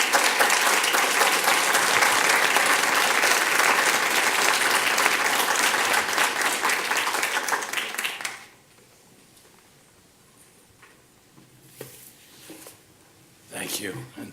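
An audience claps warmly to welcome a keynote speaker at a summit, with sustained, dense applause that fades out abruptly, leaving a quiet room with a few small noises.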